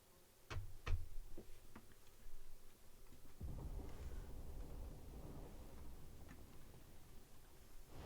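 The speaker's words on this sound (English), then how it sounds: "Sounds like thunder." Thunder in the video game Final Fantasy 16 opens with a few sharp ticks, then rolls into a sustained low rumble that lasts several seconds, with no talking.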